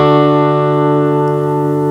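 Open chord on an acoustic guitar, strummed from the D string down, ringing loudly and sustaining evenly with no pause or restrike.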